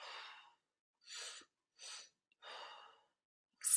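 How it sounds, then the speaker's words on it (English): Quiet, deliberate open-mouth exhales during a yoga breathing practice, four soft airy breaths separated by pauses of silence, with a fifth breath starting at the end. "cleansing, open mouth exhale."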